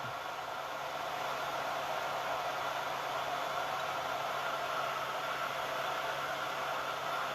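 A hair dryer runs steadily to dry paint on a Santa belly ornament, a constant loud whooshing blow of air that holds the same level throughout without pause.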